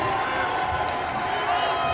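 A boys high school basketball crowd roars steadily as the student section comes alive, a dense continuous wash of cheering and shouting with no break.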